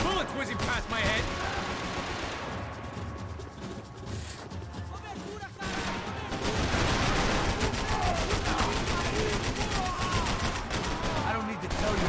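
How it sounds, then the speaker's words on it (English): Rapid gunfire bursts and heavy shooting rattle through a chaotic video game firefight, nearly continuous and loud, with voices shouting over the din. "Bullets whizzing past my head!"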